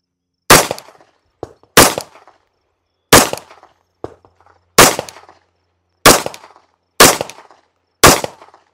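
Seven sharp, loud gunshots from a Tisas B9R 9mm double-stack 1911 pistol firing steel-case rounds, spaced about a second apart, each crack trailing a brief ringing echo outdoors.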